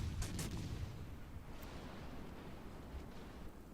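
Naval guns firing shells in World of Warships Legends, with a couple of sharp early reports fading into a low rumbling roar that rolls on like distant surf.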